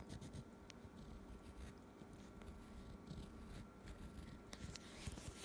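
A crayon scratches across an egg shell while drawing a happy face, soft continuous scribbling strokes close up and quiet, with small ticks as the tip lifts and lands.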